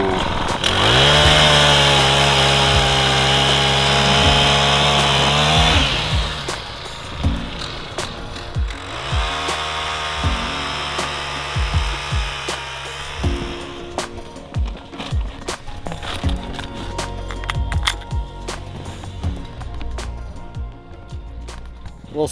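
A powered ice auger drilling fishing holes through lake ice, its motor screaming loud and steady, then dropping and surging in uneven bursts as the blade bites and clears, close up.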